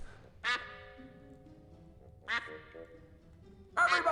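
Duck quacking in the adventure game Escape from Monkey Island: three distinct, clear quacks spaced a couple of seconds apart over a low background hum.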